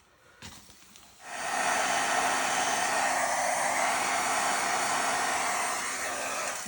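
An embossing heat tool heat-setting embossing powder on a card blows a loud, steady hiss with a faint whine, starting abruptly after a short click and holding close and even.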